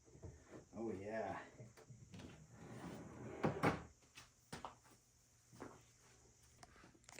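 A wooden pull-out recycling and garbage cabinet drawer slides and knocks shut in a few short, sharp bumps, with a person talking nearby before and between the movements.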